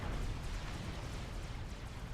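Missiles being lobbed in a Supreme Commander 4v4 match on Setons, a low, rumbling wash of launches and distant explosions, steady and fairly faint.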